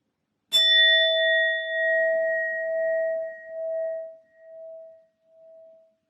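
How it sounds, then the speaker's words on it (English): A sound bowl struck once, giving a clear bright strike followed by a long, pure ringing tone that wavers and slowly fades over several seconds, loud and close, alone without speech. "I will be using my sound bowl to clear and set the energy"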